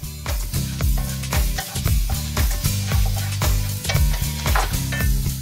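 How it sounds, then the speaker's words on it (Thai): Garlic and coriander root frying in very hot oil, a steady broadband sizzle with repeated stirring scrapes and clinks of a utensil against the pan, close and loud throughout. "โอเคน้ำมันร้อนมากๆแต่อย่าร้อนจนถึงขนาดควันขึ้นนะครับเราก็จะใส่กระเทียมกับรากผักชี"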